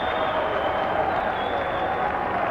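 Cricket crowd at a 1996 testimonial match applauding a catch, a broad steady wash of clapping and cheering from many spectators, loud and sustained throughout.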